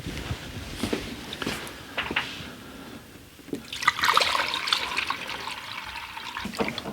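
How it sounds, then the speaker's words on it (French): New coolant poured from a jug into a car radiator, a gurgling stream of liquid that starts after a few faint knocks and handling sounds, then fills steadily and grows louder, close by. "Donc remplissage avec du neuf."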